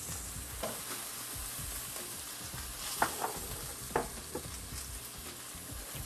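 Onions sizzle steadily in a hot pan, with a few sharp clinks and stirring scrapes over the continuous frying hiss; no voices.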